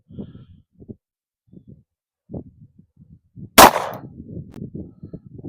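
A single sharp, loud shot from an HK VP9X pistol at an outdoor range, fired alone after stretches of quiet handling noises.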